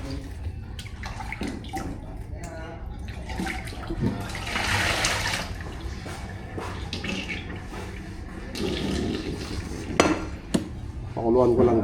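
A pressure cooker being washed in a kitchen sink: running water splashes and gushes while the metal pot clanks and knocks against the basin in irregular bursts, close and fairly loud.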